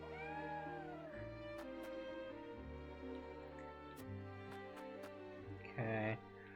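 A cat meows a few times in the video game Triangle Strategy, short rising-and-falling cries over steady game music, with a louder cry near the end.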